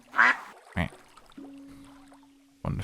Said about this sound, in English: With the ducks.